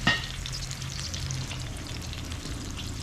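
Food fries in a pot in a backyard cooking setup, giving off a steady crackling sizzle with a brief louder spatter at the start and no talking.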